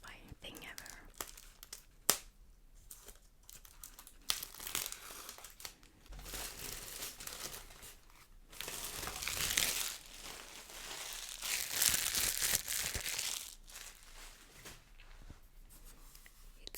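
Plastic shrink wrap is torn and crinkled off a Shadowlands collector's edition box, with close crackling and tearing bursts, louder stretches of ripping, and soft whispered speech between them.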